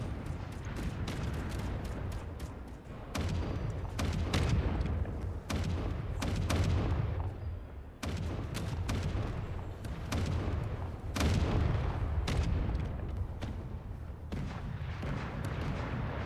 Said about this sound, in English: As you can now see what it looks like when I fire a shot.